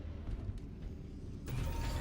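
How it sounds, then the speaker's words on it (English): A heavy sci-fi door in the video game Halo: Campaign Evolved opens via its controls with a low mechanical grinding rumble, then a brighter hissing surge as it slides open. "Find the door's controls and open it."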